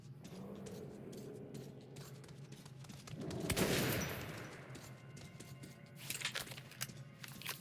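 Gunfire from the video game Metro 2033 Redux, set in a metro tunnel: a loud burst of shots swells near the middle over a steady low game hum, followed by a few sharper cracks toward the end.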